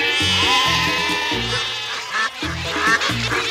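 A cartoon gadget switched to sheep mode gives out a run of repeated, bleating, quacking cries in quick uneven bursts, loud and close, with no speech over it.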